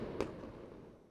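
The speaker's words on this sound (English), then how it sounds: "That definitely sounded like fireworks." A single muffled pop of a firework going off outdoors on Fourth of July weekend, brief and fairly distant, fading quickly into quiet background.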